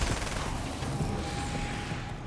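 Grenade launcher fire in the video game Alan Wake, with a cluster of muffled blasts and rumbling impacts set in a dense, noisy game soundscape.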